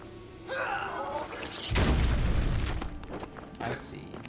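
A Nycrux bomb detonates in the dark fantasy video game The Last Faith with one deep, heavy boom and a rumbling tail, preceded by other game sounds and followed by a gasp-like breath.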